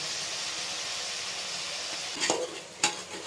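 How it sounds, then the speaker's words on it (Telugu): Mutton pieces are stirred with turmeric and salt in a pot, giving a soft, quiet sizzle. Two sharp scraping clinks come near the end, close by and with nobody talking. "బాగా కలుపుకుందాం."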